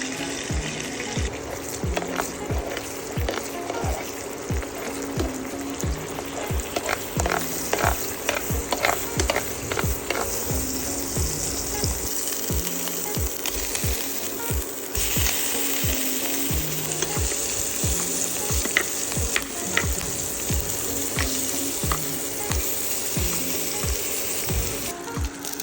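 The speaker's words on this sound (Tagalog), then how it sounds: "Bali nagluto ako ng scrambled egg." Scrambled eggs frying in butter in a pan, a loud, dense sizzle with crackling pops and stirring scrapes, a running tap briefly audible in the background.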